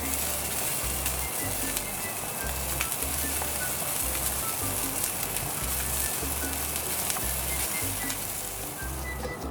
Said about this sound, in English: Just grilling off a little bit of tomatoes and add a little bit of salt on the top for seasoning